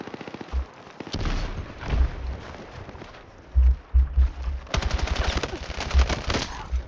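Gunfire in the video game Battlefield 6: loud, rapid bursts of automatic fire with scattered single shots and booming impacts, repeating over several seconds.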